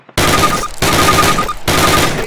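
Bursts of automatic weapon fire in Call of Duty, three loud rapid rattling volleys separated by brief pauses, close and unaccompanied by talk.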